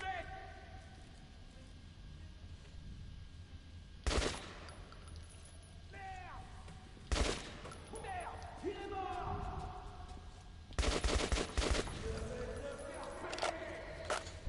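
Gunfire in the video game Metro 2033 Redux: several loud sharp bursts of shots spaced seconds apart, one longer rattling volley near the end, between game sounds and a voice talking.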